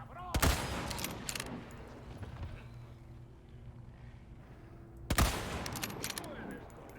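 Rifle gunfire in Resident Evil 4 Remake: two sharp, loud shots several seconds apart, each ringing out briefly over a low game ambience.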